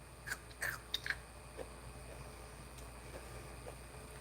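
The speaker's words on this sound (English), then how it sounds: "Please chew quietly." Someone chewing food loudly and crunchily, close to the mic in ASMR style: a few crisp bites in the first second or so, then faint, softer sounds against a quiet background.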